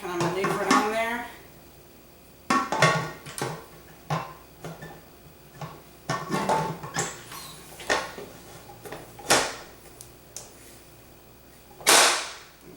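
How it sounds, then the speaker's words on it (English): Metal pressure canner lid scraping and clanking as it is worked into the grooves on the pot handles while canning carrots, a string of sharp knocks and clicks spread out over several seconds, close by, with a person talking before the handling starts. "I'm going to take the lid to my pressure canner"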